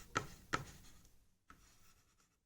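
A pen writing out a Class 10 substitution-method equation, with two sharper strokes or taps near the start and then soft continuous scratching, close and quiet with no talk.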